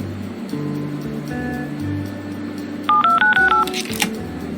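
Several touch-tone telephone dial beeps sound in quick succession over a low ambient hum and wave-like wash, as a number is punched in during the Leisure Suit Larry Wet Dreams Dry Twice video game.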